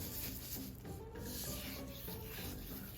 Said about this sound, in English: Generously coat your pork with salt.